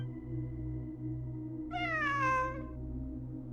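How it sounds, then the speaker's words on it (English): A cat in Genshin Impact gives a single drawn-out, clear meow over a steady low hum of background ambience, with no voices. "It really is a cat."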